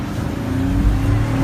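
A 2016 Cadillac SRX-4 AWD with a V6 engine accelerating in traffic, a steady, loud engine roar heard from inside the car without any voices.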